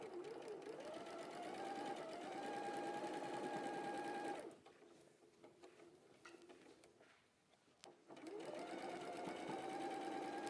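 Sewing machine stitching fabric pieces onto a garment's side seam, a steady loud mechanical whir running for about four seconds, pausing for several seconds of quiet, then starting again near the end.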